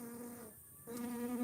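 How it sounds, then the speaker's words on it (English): A bee buzzes right against a microphone outdoors, a close, steady droning hum that dips briefly and then swells louder again. "Can you guys hear the bee in the microphone?"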